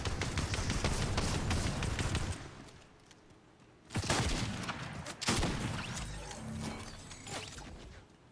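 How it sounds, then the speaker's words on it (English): Video game gunfire in rapid bursts, a dense rattling volley at first, a short lull, then two more sharp salvos fading into scattered shots, with no talk. "Oh, somebody was shooting at us."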